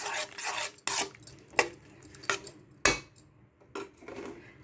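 A utensil scrapes and stirs fried masala with tomato-onion paste in a pot, giving repeated rasping strokes and metallic scuffs at an uneven rhythm, close up with no talk.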